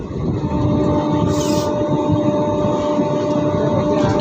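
Train rolling into Chhapra Junction in Bihar, heard from inside an AC three-tier coach: a steady, loud broadband rumble of wheels and carriage with faint tonal hum, continuous throughout.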